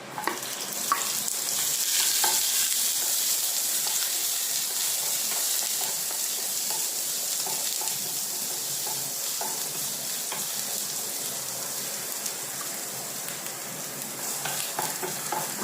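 Ginger, garlic and green chilli frying in a little coconut oil in a pan for a prawn roast, a steady close sizzle with a soft hiss and occasional stirring scrapes, heard alone without talk.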